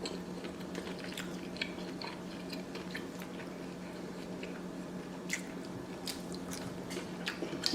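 Giant king crab legs in alfredo sauce being chewed up close, with soft wet squishes and small clicky bites over a faint steady hum, no talking.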